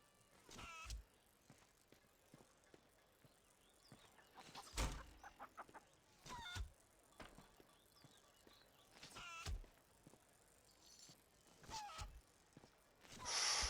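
Chickens in the video game The Bard's Tale give short, scattered clucks and squawks, faint and spaced apart over quiet game ambience, with a louder burst at the end.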